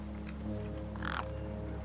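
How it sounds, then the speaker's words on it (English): Crows eyeing a corpse in the game Beyond a Steel Sky, a couple of harsh caws, one faint and short early and a louder, rasping call near the middle, over a low steady hum. "The gang birds were eyeing up the corpse hungrily."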